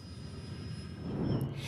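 A passenger plane's jet engines roar steadily at close range on a flight to Paris, a sustained broadband rumble that swells slightly toward the end, with a thin high whine running over it.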